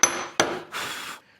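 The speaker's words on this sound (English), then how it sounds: "Where's my hammer? There it is. I'll knock that up." Two sharp hammer strikes knock up a spike on a hand-tool woodworking project for a wooden box, each a bright close metallic crack, followed by a brief scraping rub.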